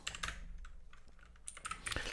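Typing on a computer keyboard: quiet, close clusters of sharp key clicks in irregular bursts, with short pauses between them and no voices.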